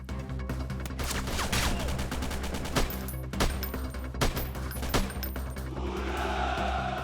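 An RPKM machine gun fires in the video game S5 Freeman Guerrilla Warfare, loud rapid bursts of automatic gunfire cracking over dense battle noise, with heavier impacts spaced throughout.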